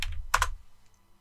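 A short burst of computer keyboard typing, a few quick close keystrokes that fade out within a second.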